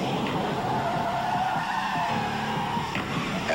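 BMW 528e sedan braking hard with anti-lock brakes, tires skidding and squealing in a sustained, wavering screech.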